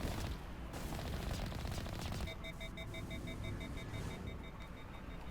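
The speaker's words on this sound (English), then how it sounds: "they're really shooting me really bad" Enemy gunfire in the Mass Effect video game, Geth incursion, a steady rattle of rapid shots followed by repeated electronic beeping tones, with a sharp burst at the very end.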